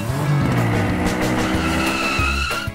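Engine whine and tire squeals from a toy RC monster truck, loud and close, with wavering pitch, screeching skids and bursts of revving that cut off abruptly at the end; no talking.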